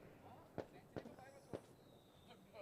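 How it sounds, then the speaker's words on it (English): Diwali fireworks bursting at a cricket ground, three sharp distant pops spaced about half a second apart over a steady crowd and ambient hum. "Beautiful fireworks here, and again happy Diwali to all the Indian viewers"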